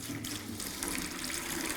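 A little water is poured into unsanded grout mix, making a faint, steady trickle and splash that runs unbroken and alone.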